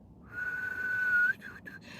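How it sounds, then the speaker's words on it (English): A person whistles a single sustained, steady note for about a second, then adds a few short, broken chirps. The sound is close and fairly soft. "I can whistle a little bit, obviously,"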